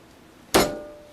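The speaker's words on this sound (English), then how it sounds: "I take one large clove here. I'm going to smash this." A large garlic clove smashed flat with a kitchen knife on a table, giving one sharp, close thud with a short ringing tail, alone in a quiet room.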